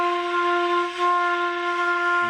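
A single sustained flute note F held steadily for a couple of seconds, clear and breathy with a slight dip in loudness midway.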